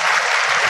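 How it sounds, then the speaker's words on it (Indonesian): An audience at an Indonesian motivational seminar applauds with dense, steady clapping, loud and close, with no pauses in the short burst. "Aplaus dulu untuk Bapak Ibu semua, luar biasa."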